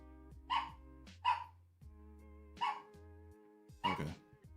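An agitated indoor dog barks four times in a row, each bark loud and close with short pauses between, over a steady low hum.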